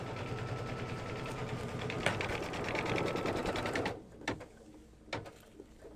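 Embroidery machine stitching a placement line for an in-the-hoop mug rug, a steady rapid mechanical needle chatter that runs loud and close, then stops and leaves a few faint clicks and taps.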